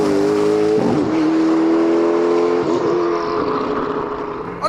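A Hennessey Venom hypercar's engine roars loudly and close up while driving, holding a strong steady tone that dips twice as the gears shift, then eases off toward the end.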